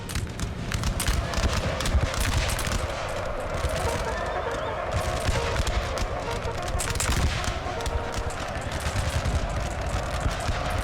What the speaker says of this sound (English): I believe they fired cluster shot there.